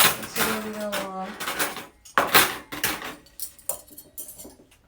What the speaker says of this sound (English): wrap a knife and a fork in the napkin